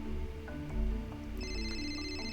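A phone ringing in the Code Lyoko IFSCL video game, a steady electronic tone sounding over ambient game background music, moderately loud, with no talking.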